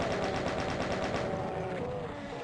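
Rapid repeated shotgun blasts and combat noise from the video game DOOM fill the mix continuously and loudly, a dense barrage of gunfire with no talking.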